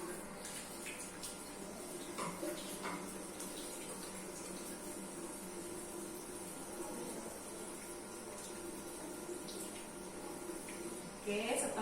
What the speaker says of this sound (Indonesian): Kita cuci tangan